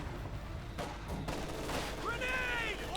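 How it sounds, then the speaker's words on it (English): Rifle fire in Company of Heroes 2, pioneers and riflemen trading shots: a few sharp cracks up front, then overlapping battle noise, with a commentator talking over it. "Pioneers going to fire from the rifleman. Running fire there."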